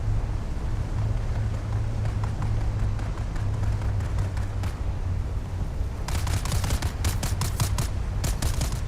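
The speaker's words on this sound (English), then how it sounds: "Who's shooting me?" Gunfire in the video game Dune Awakening, with rapid bursts of sharp cracks, scattered at first and then dense and repeated over continuous rumbling background noise.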